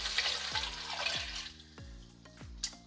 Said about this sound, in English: we're gonna add the veggie stock in